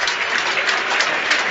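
A crowd at a Test cricket match between England and Australia applauds, a steady broad wash of clapping heard from a distance.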